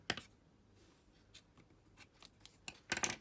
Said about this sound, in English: snip it off